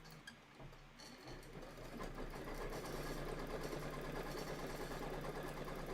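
A Kimberbell embroidery sewing machine runs steadily as it stitches a tack-down line for a quilted Christmas sew-along project. The needle keeps up a fast, even mechanical whir and chatter that starts quietly and grows louder and constant.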